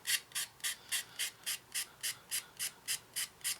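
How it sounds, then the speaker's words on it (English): Someone sands the edges of a plastic part from an Eduard 1/32 Messerschmitt Bf 109E-3 model kit, making a steady run of about thirteen quick, even rasping strokes, close and alone. "So I'm just going to sand the edges down a bit."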